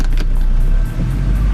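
Truck engine in Tasmanian mud, leaning at a steep angle in a boggy hole, a steady low rumble close by, loud and continuous with no talk.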